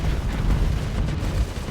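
A wave motion cannon fires in a space combat video game as a dense, rumbling sustained blast that fills the low end with heavy booming energy throughout, with no talk over it.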